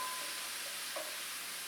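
Salisbury steak sizzling hard in a frying pan, a steady close hiss of frying with no talking.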